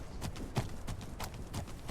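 Horse hooves clip-clopping in the Legend of Khiimori video game, set on the Mongolian steppes: soft, muffled rhythmic hoofbeats at a steady gait, fairly quiet, with no voices.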